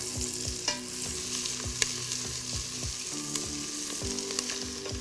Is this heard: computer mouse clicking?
no